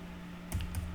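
Keys clacking on a computer keyboard while a spreadsheet formula is entered, a short burst of three or four quick, close taps after a half second of quiet hum.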